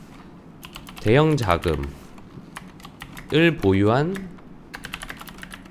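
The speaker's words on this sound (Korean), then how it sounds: "이거는 타이핑을 치는 게 낫겠죠?" Rapid clicking of fingers typing on a computer keyboard, in scattered bursts running under and between a man's speech.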